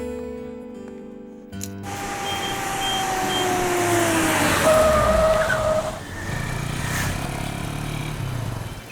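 A new car accelerates away with a rising engine roar and squealing tires, its sound sweeping close and loud before easing off, with no voices.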